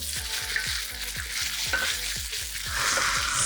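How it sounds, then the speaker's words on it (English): Noodles sizzle in hot oil in a smoking wok, a loud continuous frying hiss punctuated by a regular run of dull knocks as they are tossed and spread, with no voices. "I'm gonna add a little bit of oil, not too much here, and then in go my noodles"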